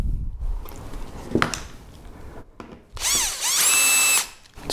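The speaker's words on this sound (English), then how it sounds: "Where's my screwdriver gone?" A power screwdriver used while assembling a Vevor welding trolley whirs loudly for about a second near the end, after quieter handling knocks and clatter.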